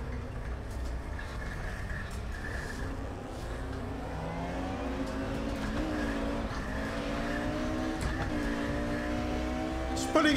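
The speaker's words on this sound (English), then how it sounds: "we spun the rear tires." Race car in the RaceRoom video game with its rear tires spinning, the engine revving and rising through the gears under a tire squeal, loud and continuous.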